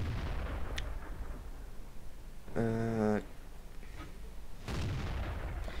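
Heavy KV-1 tank cannon blasts from a game boom over a rumbling engine-like background, a few seconds apart, with a short tonal blip in between.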